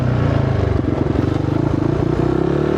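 A motorcycle fitted with a 51-tooth rear sprocket runs in the desert, its engine a loud, close, continuous drone with a slight rattle throughout.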